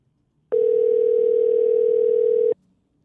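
A single steady telephone ring tone lasts about two seconds on an unanswered line, then cuts off into near silence. It is loud and clear, with no voices.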